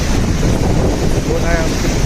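Boat ride at Juhu Chowpatty beach in Mumbai, with steady loud wind buffeting the microphone and a continuous rush of engine and water underneath, constant throughout the short stretch without a clear break.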